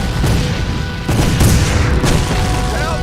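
Gunfire in a Civil War battle scene booms in heavy, rumbling bursts, with loud reports around the middle, over a dense wall of battle noise.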